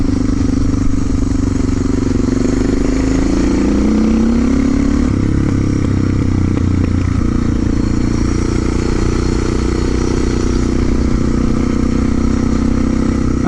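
A motorcycle engine drones loudly and continuously during a ride, close to the microphone, with a slight shift in pitch partway through and a rough, clattering edge, and no voices.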